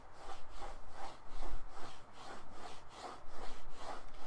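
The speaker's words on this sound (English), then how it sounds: "you will be able to hear the mouse actually going across the surface" A computer mouse is dragged vigorously back and forth across a rough-textured Razer Star Wars: The Old Republic mouse mat, giving a steady rhythmic scraping rasp of about a dozen close strokes, heard alone.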